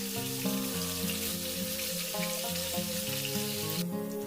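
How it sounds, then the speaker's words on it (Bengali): Potatoes fry in white oil in a wok over a medium flame for Kolkata mutton biryani, giving a continuous, even sizzle. Background music plays steadily underneath. "মিডিয়াম ফ্লেমে আলুগুলো 2 পিঠ হালকা ব্রাউন হওয়া পর্যন্ত ভেজে নেব।"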